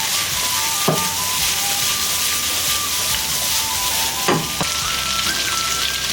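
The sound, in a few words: onion stir-frying in a wok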